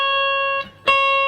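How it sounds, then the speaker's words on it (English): A single sustained electric guitar note played at the 8th fret and bent up a semitone, bright and clean, with a short dip in loudness before the note returns at the raised pitch, alone with no talking. "a bend at the 8th fret, a semitone bend."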